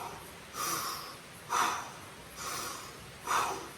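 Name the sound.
deep breathing in through the nose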